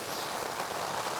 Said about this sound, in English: woken by the sheer racket and force of the rain and wind